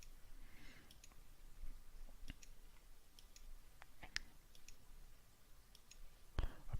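A few faint, sparse computer mouse clicks spaced out over steady low room hiss, with no talking.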